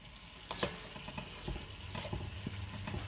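Pieces of veal browning in a hot pot for a festive blanquette, a quiet sizzle broken by a few stirring scrapes and clinks of a utensil against the pot.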